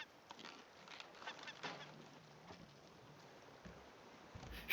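Faint honking bird calls from the survival game Raft come through a quiet, noisy background, several soft squawks scattered across a few seconds.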